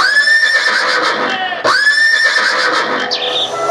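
A mare whinnies loudly and at length during a stage skit. The shrill, quavering neigh breaks once in the middle and then starts again, with a voice audible alongside it.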